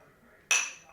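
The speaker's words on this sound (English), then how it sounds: "Clink them and drink them." Glasses of tequila clink together once, a bright, sharp chime that rings and fades over a faint room background.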